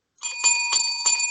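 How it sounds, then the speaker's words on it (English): Bell rings out three times in quick succession to close an episode of a wrestling podcast, each strike bright with a lingering metallic tone, clear and close with no talk over it. "there's the bell"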